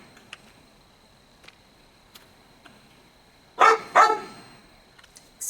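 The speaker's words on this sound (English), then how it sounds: "the dog barking has stopped" A dog barks twice in quick succession, sharp and fairly close, breaking an otherwise quiet outdoor scene in a forest campsite with faint scattered clicks.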